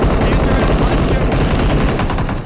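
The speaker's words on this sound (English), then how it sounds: "Stallone is shooting long range." Rapid bursts of gunfire from the battle royale game PUBG Mobile, dense, loud and continuous, with automatic spraying at long range layered over one another throughout.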